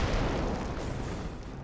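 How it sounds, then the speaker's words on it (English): Rocket barrage from a half-track in Company of Heroes, a dense rumbling roar of overlapping explosions, loud and continuous throughout with no talk. "Warframe half track barraging. Our forces are taking casualties."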